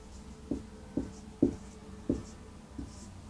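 Handwriting on a classroom board, five distinct tapping strokes spaced roughly half a second apart, close and clear with no talking.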